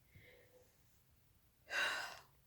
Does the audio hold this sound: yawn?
yes